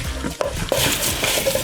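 Seasoned burger mince with smoked paprika is worked by hand in a bowl, giving soft, wet squelching and slapping sounds in a short close-up burst.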